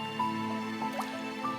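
Water drips from a leaking roof onto a surface indoors, a few soft separate drops at an irregular pace over a steady low background hum.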